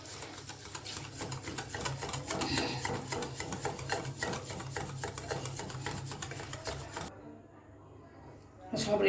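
Sugar being beaten into a papdi chaat mixture, a rapid, steady clatter of whisking against a bowl that runs for several seconds, then stops, with a brief clink at the end.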